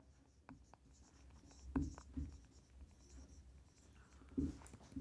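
Chalk or marker scratching on a board during a physics lecture on galvanometers, with soft taps and strokes at an even pace. A few louder knocks stand out against quiet room noise, and no one speaks.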